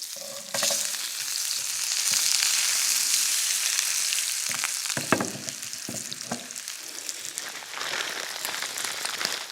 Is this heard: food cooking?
yes